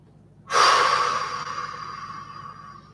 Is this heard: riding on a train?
no